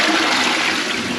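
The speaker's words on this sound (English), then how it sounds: "then give it a flush" A toilet flushes after a cistern refill check, a loud, steady rush of water filling the whole short stretch close by, with no talk.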